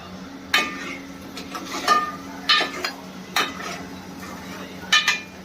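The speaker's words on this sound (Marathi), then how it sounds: "आता हे ढवळायचं" A spoon scrapes and clinks against a cooking pot while Malvani masala is stirred, in several short uneven bursts of metallic scraping over a quiet kitchen background.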